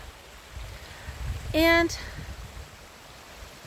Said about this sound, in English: It's just water flowing down a hill